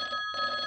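An old-style telephone bell rings steadily, with a brief gap partway through, close and fairly loud, with no voices.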